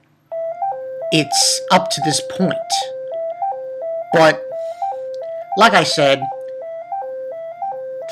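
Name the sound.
phone ringing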